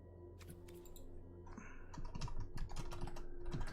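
Typing on a computer keyboard during a Strixhaven sealed card game session, a quick, close run of soft key clicks that grows busier toward the end, with no talking.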